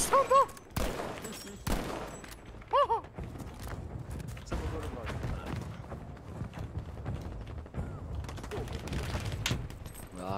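Gunfire in a first-person shooter video game pops out in scattered shots and short bursts under people talking, with game footsteps and other effects in the background.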